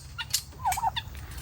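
Poultry chicks calling in a few short, faint chirps and peeping notes at close range, with no voices.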